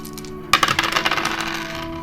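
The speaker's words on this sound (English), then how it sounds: "I'm going to go ahead and throw some dice for the energetical level" Dice are thrown onto a surface for a tarot-style energy reading, giving a quick burst of rattling clicks and bounces that settle within about a second and a half.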